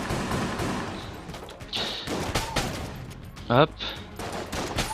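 Rapid gunfire from a weapon in the roguelike shooter Enter the Gungeon, bursts of shots popping repeatedly with crunchy impacts and a short rising zap, while someone talks over the action.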